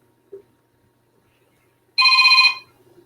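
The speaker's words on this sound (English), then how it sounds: "Somebody's calling in, but the call dropped." A telephone gives one short electronic ring burst for an incoming call, sharp and clear against near silence, preceded by a faint small tap.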